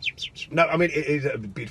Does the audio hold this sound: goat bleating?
no